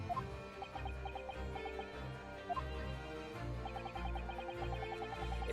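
Game chicken clucking from The Great Ace Attorney 2, a string of short clucks over a steady music bed, fairly loud and continuous.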